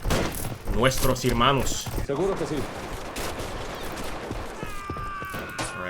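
Bursts of gunfire from covering troops crackle through a video game battle set in 1924 Honduras, a steady rattle beneath loud shouting voices, then continuing more faintly behind later sounds.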